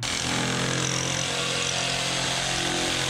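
A power saw cuts through fiber cement cedar-shake shingle siding from the back side, giving one loud, sustained, gritty whine that holds steady at close range with no speech.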